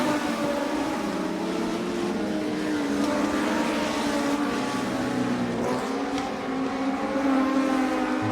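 Race cars roar around the Lake View Speedway oval in a loud, continuous engine drone that rises and falls slightly as the pack passes, with no voices.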